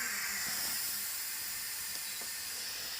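A multi cooker set to steam while cooking beetroot gives off a steady, broad hiss of escaping steam, constant and fairly close, with faint soft knocks beneath it.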